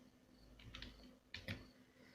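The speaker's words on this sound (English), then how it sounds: "now start typing" Fingers tap out a short burst of keystrokes on a computer keyboard, a few quick clustered clicks close by with no voice.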